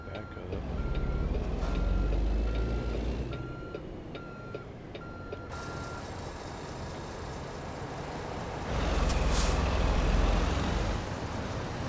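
Repeating reversing beeps sound over the steady diesel rumble of a big rig backing up in American Truck Simulator, a GTM-modded Kenworth W900B hauling a trailer, with a hiss of air brakes near the end.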